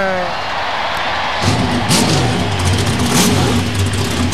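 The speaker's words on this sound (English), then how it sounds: "Drivers, start your engine!" Race car engines fire up together after a brief quiet start, settling into a loud, steady rumbling idle with occasional revs over a distant crowd murmur.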